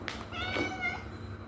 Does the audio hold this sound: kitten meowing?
yes